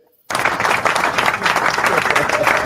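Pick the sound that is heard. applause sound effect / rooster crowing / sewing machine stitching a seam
applause sound effect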